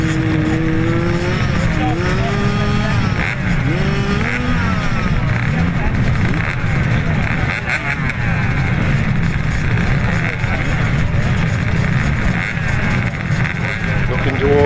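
Grasstrack racing motorcycles of the auto cadets and cadets class revving and accelerating, several engines whining up and down in pitch at once, loud and busy throughout, with a voice talking over them.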